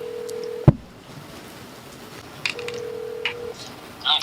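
Phone keypad tones as a number is dialed to call a friend, a sharp tap followed by two steady beeps, the second long, with a few soft taps and clicks between them, close and clear.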